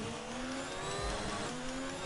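An F1 race car in the F1 2019 video game, driven with a broken gearbox, holds a loud, steady high-pitched engine whine, pitch sliding gradually with no clear gear shifts, no voices over it.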